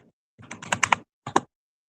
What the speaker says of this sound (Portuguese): vamos digitar a senha